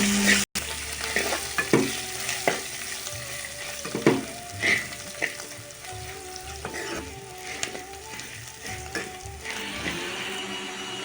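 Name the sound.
fenugreek seeds, curry leaves and coriander frying in oil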